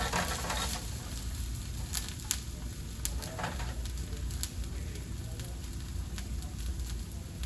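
Vegetables for ratatouille, including peppers, cooking in a pan, a continuous close sizzle with scattered crackles and pops throughout.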